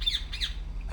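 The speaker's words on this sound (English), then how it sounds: "What the hell's up with that bird?" A bird in the video game Republique lets out a series of harsh, shrill squawks in quick bursts, close and sharp against a low steady background hum, with no talk.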